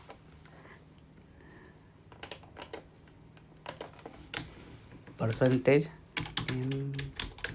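Quiet, scattered computer keyboard keystrokes type a Windows temp-folder shortcut, sparse taps at first and then a busier run of clicks, with someone talking over the later part.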